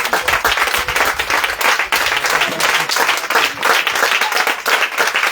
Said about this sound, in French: Bien aimé, tu vas acclamer le roi des rois.